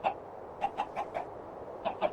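A chicken clucks in short, scattered calls in a Tomb Raider custom level, moderately close against a quiet background.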